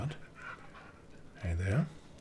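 Mirabilis, the pet dog in the video game Pentiment, pants softly in quick breaths, faint and close, with a brief louder huff near the end.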